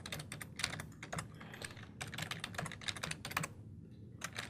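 A computer keyboard clatters with quick bursts of close keystrokes as a command is typed, broken by short pauses, with a brief quiet gap near the end.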